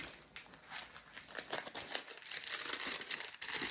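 Scissors or a blade cutting through the crinkly top of a paper gift bag, a close, continuous crackling and rustling that grows busier and louder toward the end.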